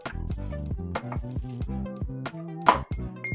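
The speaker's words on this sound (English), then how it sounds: "we're gonna go ahead and get the big ice cube in" A big ice cube drops into a cocktail glass for a PB&J cocktail, preceded by a run of close ringing glass and metal clinks and ending in a sharp knock.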